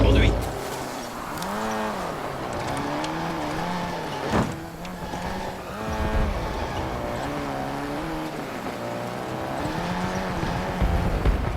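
A car driven in a shooter video game, its engine revving up and down in sweeping pitch changes with tire noise and clatter throughout, loud and close, while a voice speaks over it.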